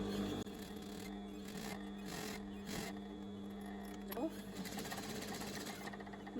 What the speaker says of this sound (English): Making sure that the overlocking is just this side of the elastic.